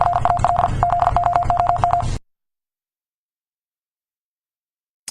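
Telephone keypad dialing tones from an Asus phone commercial, a quick run of short, evenly spaced beeps for about two seconds before cutting to silence.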